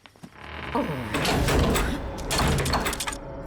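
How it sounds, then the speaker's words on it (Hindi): A door being shut, heard as a few heavy clunks and rattles spread across a couple of seconds, fairly close and loud. "उस शैतान को यहाँ घुसने से रोकने के लिए तुमने खुद दरवाजा बंद कर दिया"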